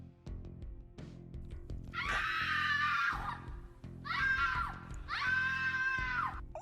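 A recorded woman's scream plays from a wrist computer, three long piercing bursts repeating over a rhythmic background beat.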